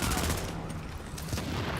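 Gunfire from Bullfrog and Showstopper weapons in The Division, a rapid burst of loud shots blending into a continuous, booming rattle with a brief lull midway.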